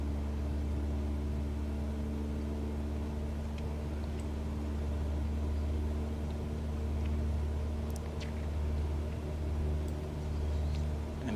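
The piston engine of a Cessna 172 in Microsoft Flight Simulator 2020 drones steadily at a throttled-up setting, a continuous tonal hum with a low rumble that barely changes.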